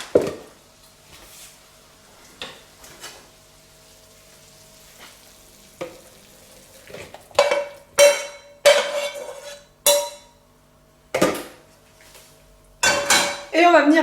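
Cut pieces of fish dropped into a hot frying pan, a quiet sizzle broken by repeated sharp clinks and scrapes of a utensil against the pan in irregular bursts.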